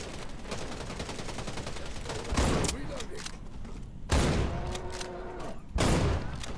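Shootout in the video game Wild Assault, with rapid automatic fire rattling continuously and three heavier loud blasts spaced a couple of seconds apart, close and dominant.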